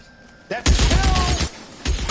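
Gunfire in L.A. Noire: a burst of several close, loud shots after a brief quiet lead-in, followed by another sharp report near the end.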